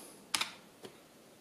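Two quick clicky keystrokes on a computer keyboard as numbers are entered, followed by one softer key press, close and isolated in a quiet room.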